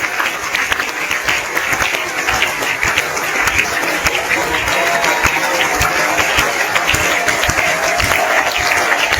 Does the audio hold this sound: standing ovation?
yes